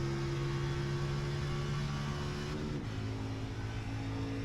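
Sim race car engine in iRacing at Daytona oval holding a steady loud drone, then dropping pitch sharply as it shifts up into a higher gear, continuous and close with no talk.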